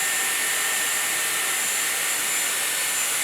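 A Dyson Airwrap blowing a steady stream of air while long hair is styled, a loud continuous hiss and whoosh close by, with no talking.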